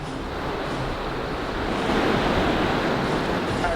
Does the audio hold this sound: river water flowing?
yes